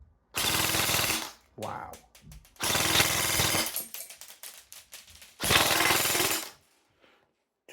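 An airsoft gun fitted with a Perun V3 hybrid mosfet fires three loud full-auto bursts of about a second each, a rapid buzzing rattle at just over 20 rounds per second, separated by pauses with clicks and a brief spoken exclamation.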